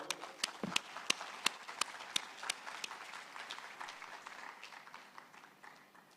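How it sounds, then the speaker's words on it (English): An audience applauds for VoteBot at a deep learning conference gathering, a scattered round of clapping that starts with sharp distinct claps and thins out into softer, fading applause, heard from some distance. "Let's give a round of applause to VoteBot"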